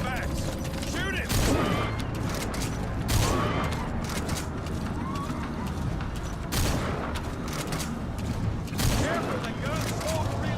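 Gunfire in Metal Gear Solid V: The Phantom Pain rings out as a string of sharp shots, with several loud bursts spaced irregularly over steady battle noise and mechanical clatter.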